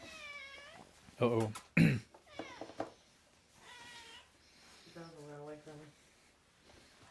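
A pet cat meows several times, drawn-out harmonic cries mixed with people talking nearby, fairly close and moderately loud, with a cough-like burst among them.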